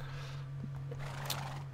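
A horse in Minecraft gives a short, close whinny over a steady low hum, with a soft thud near the end.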